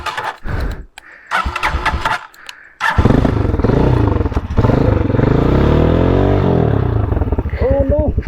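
An off-road motorcycle being started on a trail: a few short cranking attempts, then the engine catches and runs loud and close with a rough, throbbing idle and revving, while voices talk nearby.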